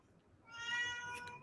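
A single cat lets out one drawn-out meow that rises and then fades, close and clear against quiet background hiss, with no one speaking.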